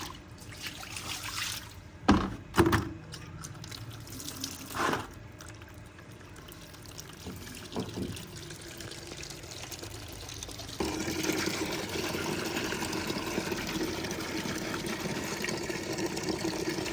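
Faint trickle and pour of running water while dishes are washed in a village home, steady and quiet with a few soft clunks early on and a slightly fuller stream in the last seconds.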